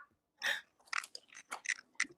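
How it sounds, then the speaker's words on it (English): Someone nearby crunches on chips, giving a quick burst of crisp bites and chewing crackles in an uneven rhythm over a couple of seconds, with no talking. "Somebody chewing chips."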